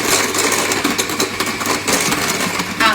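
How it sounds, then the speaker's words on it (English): Vanilla being whisked into pavlova meringue mixture, likely with an electric mixer: a loud, close, continuous whirring drone with a rapid rattling texture, heard alone. "Final little whisk together"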